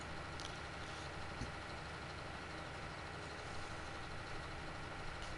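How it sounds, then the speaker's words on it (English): Steady low rumble of a tracked tractor engine running in Farming Simulator, continuous and even, with a couple of faint clicks. "It's a beast, though. I like this tractor a lot."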